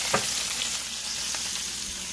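Bacon frying in a pan, a continuous close sizzle with small pops and crackles, no talking.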